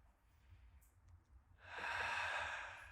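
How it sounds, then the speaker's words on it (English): A person takes a slow, deep abdominal breath during a relaxation exercise: quiet, soft airflow at first, then a louder, sustained breathy exhale or inhale close to the mic in the final second and a half. "deep abdominal breathing"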